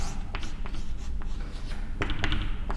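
Pen strokes scratching across paper as electrical circuit equation terms are written out by hand, a run of short, close, dry scrapes and taps over a steady low background hum, with no talking.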